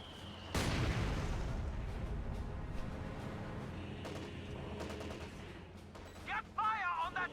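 Mortar fire hitting riflemen in a real-time strategy battle game, with a heavy blast near the start followed by scattered gunfire and explosions amid continuous battle noise.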